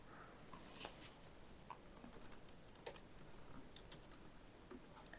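Faint computer keyboard typing while appointment details are entered into a booking form, a loose run of light key clicks that clusters in the middle and tapers off, with no talking.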